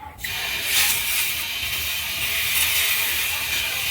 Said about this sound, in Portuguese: vamos injetar o ar e vamos ver aonde está escapando o ar nesse cilindro